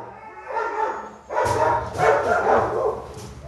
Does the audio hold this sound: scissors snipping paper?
no